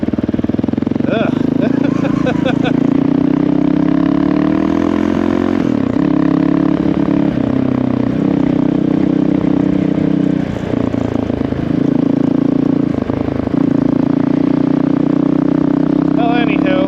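A Honda CRF450RL dirt bike engine drones loud and close while riding, its steady buzz dipping briefly with throttle changes and running continuously throughout.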